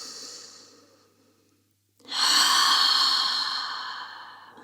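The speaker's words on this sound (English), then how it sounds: "One more deep breath in." A deep, audible exhale at a yoga session, a long soft breathy rush that swells suddenly after a short pause and slowly fades, close and alone with no talking.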